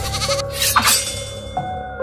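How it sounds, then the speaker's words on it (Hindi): A goat screaming loudly, one long, strained, wavering bleat rising and falling in pitch, close and harsh, followed by a shorter second cry. "वो बाहर गया और कुछ देर बाद बकरी की जोरदार चीख वहां सुनाई दी"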